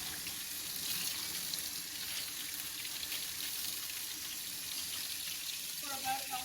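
Steady running tap water splashing over hands at a sink during a surgical hand scrub, a continuous close hiss with little change throughout.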